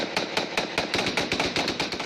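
Rapid gunfire near homes in a rural area of El Peñol, Colombia, a loud, fast run of sharp cracks at a steady rhythm across about two seconds, with no voices.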